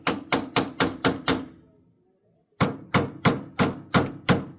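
Hammer blows strike a stuck part on a Ferguson tractor: a quick run of six sharp metallic hits, a two-second pause, then seven more evenly spaced, loud and close.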